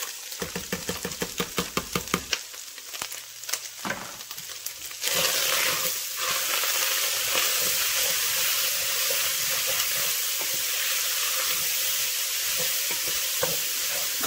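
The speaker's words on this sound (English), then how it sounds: "we're going to go ahead and add in our onion, celery," Onion, celery and carrot for lasagna hitting a hot pan, with rapid stirring clicks and scrapes at first, then a loud, steady sizzle of frying vegetables close up, no speech.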